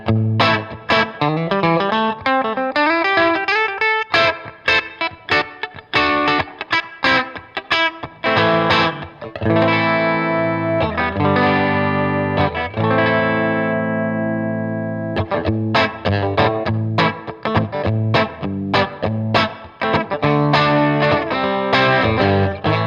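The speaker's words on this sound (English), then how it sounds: "Contrast that with the bridge pickup, which I'll give you, you know, by itself here, without the blend system activated." Fender Custom Shop Empire '59 Transition Stratocaster electric guitar played through its bridge pickup alone with overdrive, bright biting distorted chords and single-note runs, a long sustained ringing chord midway, then rhythmic strumming, loud and close with no talking.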